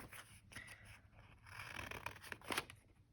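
Scissors cutting through paper card for a handmade Christmas card, a faint, close rasping snip with soft scraping, quiet and continuous.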